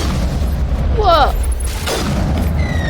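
A rocket blast goes off during a firefight in the video game Mass Effect: a loud boom with crackling debris rises over a constant roar of battle noise, followed by a second burst a moment later.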